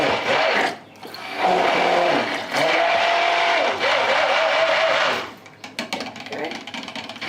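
A blender whirs through coconut oil soap mixture in loud bursts, starting and stopping several times, steady motor drone between short pauses, ending with clattering handling noises.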